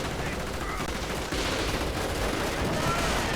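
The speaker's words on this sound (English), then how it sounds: "8 assault rifles. That's quite a bit of automatic fire." Automatic assault rifle fire from several soldiers in a World War II strategy video game, dense, continuous rattling bursts layered over one another, steady and fairly loud throughout.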